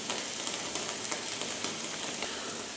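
A club steak sizzling in a hot pan as it is flipped, a steady crackling fry close up with small scattered pops and light clicks throughout, no talking.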